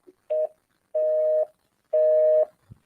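Telephone ringback tones on an outgoing call: three steady electronic beeps of increasing length, clear and close, with a short click before the first and a faint thump at the end, no voices.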